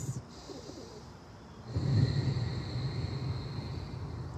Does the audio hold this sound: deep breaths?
yes